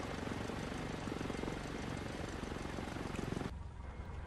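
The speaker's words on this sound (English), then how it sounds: "Allegiant, I believe that's an MD-80" Steady, loud airliner engine roar from an Allegiant MD-80 in a flight simulator game, a dense broadband drone with propeller-like throb that cuts off abruptly near the end, leaving a quieter hum.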